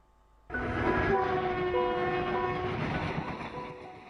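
An Indian Railways train starts up abruptly after a brief quiet, its horn sounding clear, tonal and fairly close over a steady rumble of rolling wheels that slowly eases toward the end.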